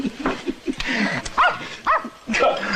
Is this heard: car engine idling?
no